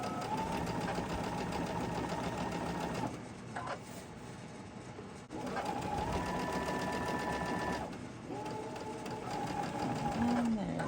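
A domestic sewing machine runs in sustained bursts, stitching along a marked line on fabric past pins for a spooky-themed sew-along project, pausing briefly between runs with a steady mechanical whir, close and loud, as a voice talks over it.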